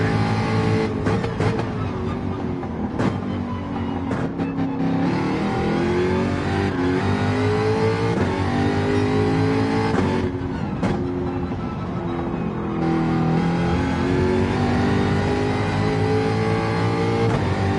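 A car engine in a racing video game set at Brands Hatch revs and roars steadily through gear changes, loud and continuous with no talk.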